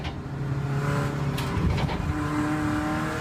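A race car engine revs hard on the Rockingham circuit during a trackday, a loud sustained roar with a steady tone and a brief tire squeal as the car slides under throttle.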